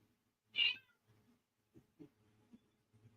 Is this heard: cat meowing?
yes